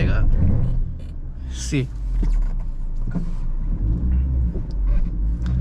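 A Maruti Grand Vitara AWD accelerating off-road over pits with a rear wheel lifted, its engine rumbling and rising under a man's speech inside the cabin, with brief mechanical squeaks.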